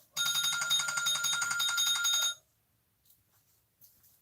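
A husband's mobile phone rings nearby with a bright, rapidly trilling electronic ring that lasts about two seconds, then cuts off abruptly, leaving near silence with a few faint soft bumps.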